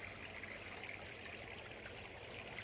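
A small brook babbles beside a wooded grove of beech, birch and hornbeam, a steady faint wash of trickling water with no voices or other sounds.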